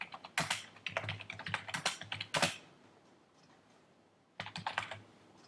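Rapid clicking keystrokes on a computer keyboard as a template name is typed, arriving in a dense burst, then a pause, then a shorter second burst, close and crisp.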